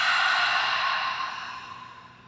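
One deep exhale through the mouth during Kundalini yoga breathing: a loud, close, breathy rush that slowly fades over about two seconds, with no talking over it.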